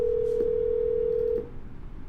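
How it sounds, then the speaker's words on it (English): A steady single-pitch telephone tone from a redialed call, sounding loud and clean for about a second before cutting off and leaving faint line hiss. "We're going to dial this one again"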